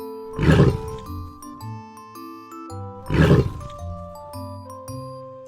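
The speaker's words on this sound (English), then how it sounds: "Tiger." A tiger gives two loud, close roars about three seconds apart, set over a light chiming children's music backing.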